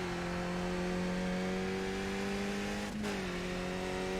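A Skip Barber race car in the iRacing sim, its engine droning steady and loud under throttle, dipping for a brief gear change before holding a steady pitch again, with no voices.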